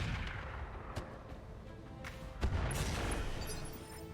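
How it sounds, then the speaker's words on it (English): An artillery strike lands on a Dragon Slayer mech in the game RogueTech, with a few sharp booms cracking through a dense, continuous rumble of battle noise. "we're going to drop the artillery, I think, on this Dragon Slayer"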